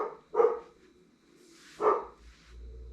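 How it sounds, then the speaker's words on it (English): Schooner, a dog being babysat, lets out two separate barks about a second and a half apart, fairly close and loud, with a quiet pause between them. "We're babysitting a dog that barks a lot"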